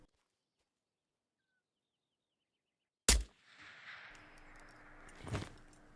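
A single loud, sharp video game gunshot cracks after a few seconds of silence, followed by a lingering rumble, faint tones and a second softer impact.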